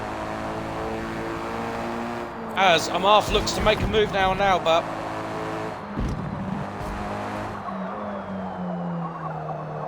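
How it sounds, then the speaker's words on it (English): Hot hatch race cars, among them a Mini Cooper, roar and rev through a circuit race, engines surging as cars pass close with a burst of tyre noise midway, under continuous race commentary. "Dindu streaking away in the Mini Cooper"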